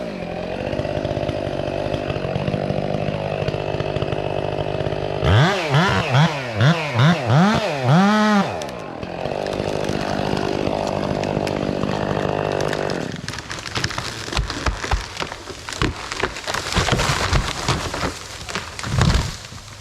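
A power saw fires up and works through maple trees, its engine revving in rising and falling sweeps before settling into a loud, steady cutting roar with dense crackling debris noise.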